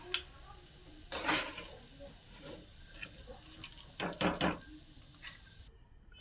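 Peanuts fry in hot oil in a home kitchen for a crispy poha snack, with a soft sizzle under metallic scraping and stirring clatter in short bursts, close by.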